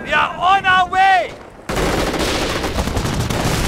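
Dense battlefield gunfire in the video game Company of Heroes, rapid overlapping bursts of rifle and machine-gun fire erupting suddenly after a soldier's shout and continuing loudly to the end.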